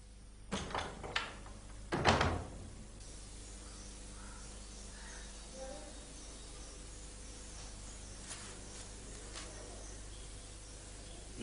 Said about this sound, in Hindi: दरवाजा बंद कर दो